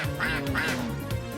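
Cartoonish duck quacks from the Earthworm Jim 2 video game, two or three nasal quacks in quick succession over busy game music, loud and close.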